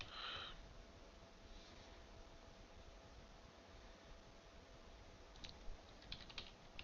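Sparse, light computer-keyboard typing with a few soft key clicks, mostly toward the end, over a steady background hiss.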